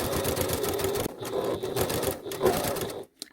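A sewing machine stitches a seam on a disposable fabric mask with a rapid, close mechanical clatter, a brief hitch near the middle, then runs on before cutting off abruptly just before the end.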